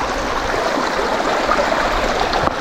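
A small mountain stream on the Colorado Trail flows straight out of a rock, producing a steady, close, loud rush and babble of water with no pauses.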